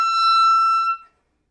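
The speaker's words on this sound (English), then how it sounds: "This note will squeak really easily." A single high clarinet squeak on a sensitive G sharp fingering, caused by too much jaw pressure on the reed: a piercing, steady tone held for about a second, then cut off, heard alone.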